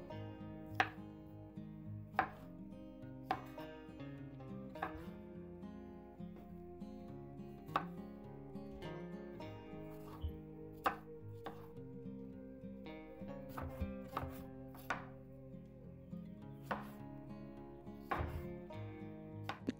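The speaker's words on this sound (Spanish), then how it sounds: "Yo las voy a partir solamente en 4 partes y las fresas que estén más grandes las partiré" Knife chopping fresh strawberries into quarters on a cutting board, a quiet, irregular series of soft taps and thuds spread over the whole stretch, with faint background hum.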